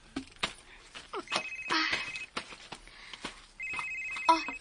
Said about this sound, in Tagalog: ang imong cellphone, nag-ring